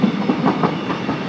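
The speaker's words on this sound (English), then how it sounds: "Of course the train's going to go by." A train passing on a track beside a small green space, a loud, close rumble with a rhythmic clickety-clack of wheels over rail joints that carries on without a break.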